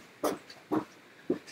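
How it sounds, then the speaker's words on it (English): A pet dog barks three times, short and evenly spaced, close and fairly loud in a quiet indoor room, each bark slightly clipped and breathy. "The dog just keeps barking wherever she is"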